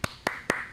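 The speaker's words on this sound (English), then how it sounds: "Claps and chat." Four sharp hand claps ring out at an even pace, close and crisp, each one brief, with quiet room tone between them and no speech.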